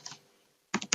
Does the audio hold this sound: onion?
no